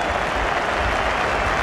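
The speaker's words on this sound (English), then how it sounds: "Plenty for this crowd to cheer here" A cricket crowd at Birmingham cheers and applauds England's last-wicket partnership against Australia, a dense, loud, continuous wash of clapping and roaring from a large stadium audience.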